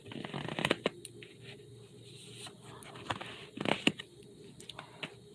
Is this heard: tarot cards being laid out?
yes